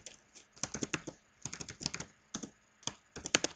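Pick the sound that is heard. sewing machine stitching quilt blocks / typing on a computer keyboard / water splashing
typing on a computer keyboard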